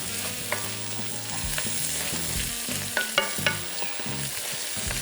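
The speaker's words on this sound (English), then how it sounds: "we're going to sort of take our wooden spoon, which I have at the ready, and just sort of mash that in" A wooden spoon mashes anchovies into a sizzling puttanesca sauce in a pan, steady frying hiss with scattered scraping and soft clicking stirs, close and moderately loud.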